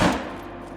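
A gunshot fired at a bison in a hunting video game, one heavy close blast at the start whose booming tail quickly fades out, with no voices over it.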